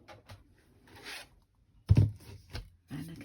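A card inside a 3D embossing folder with a speciality plate feeds through a hand-cranked embossing machine, giving soft grinding, scraping rasps and a few low thuds and clunks close by.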